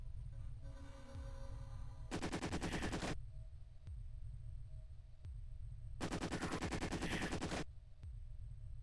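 Bursts of rapid gunfire in an Amiga shooter, two loud sustained volleys of about a second each, separated by a low droning game background.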